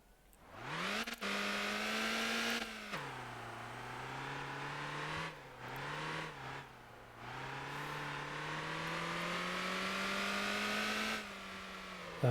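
A car driven in the game Motor Town, its engine droning steadily with revs rising and dropping through several gear shifts and throttle lifts, close and continuous with no one speaking.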